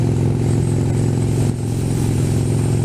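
A pink Vespa motor scooter engine drones steadily and loudly while being ridden on a cold day, a constant mid-pitched hum with rattly texture and a brief dip midway through.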